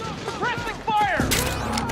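Gunfire from a battle in Metal Gear Solid 4: Guns of the Patriots on PS3: sharp bursts and impacts layered over game music and voices, growing louder and denser toward the end.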